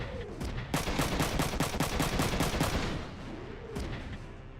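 Rapid machine gun burst in Front Mission 3, about a dozen sharp evenly spaced shots over roughly two seconds, loud and close, with a whooshing effect before and after.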